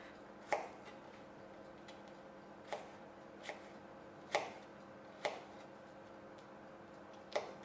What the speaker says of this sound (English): So I have my peeled garlic, so just slightly cut that up.